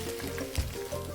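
Thin-sliced medium onion sizzling in a pan for a Kerala-style mushroom kurma, a faint close frying hiss with a soft bump in the middle, no talking.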